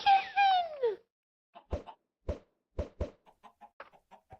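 A chicken in the video game Skyblock gives a loud, drawn-out call, then a string of about ten short, close clucks with brief pauses between them.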